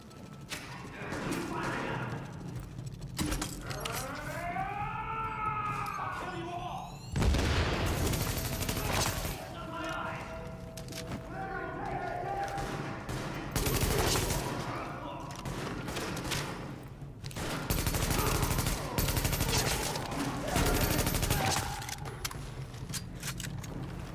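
Gunfire in The Division during an escort under fire from a rooftop, bursts of rapid automatic shots and thuds mixed with game sounds and radio-style voice chatter, moderately loud and intermittent.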